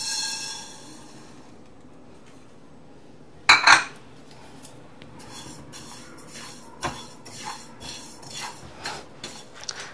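Four tablespoons of sesame seeds dry roasting in a pan over a low flame, with one sharp metallic clank and rattle near the middle, then scattered soft clicks and scrapes of stirring. No one speaks.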